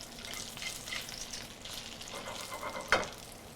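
Lobster crépinette frying gently in a pan, a steady soft sizzle and crackle running throughout with a brief sharper spatter near the end, close and moderately quiet with no talk.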